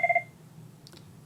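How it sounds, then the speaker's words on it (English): A phone gives three quick electronic beeps at the start, close and clear, followed by faint hum and a brief soft click. "my phone just rang"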